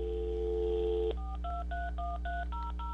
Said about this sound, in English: So we tried calling the number ourselves,